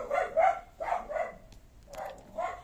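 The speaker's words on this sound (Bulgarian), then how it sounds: "Чакай, че кучето лай" A dog barks in a quick series of sharp, mid-pitched yaps, two clusters close together with a short pause between, fairly near and clear without talk.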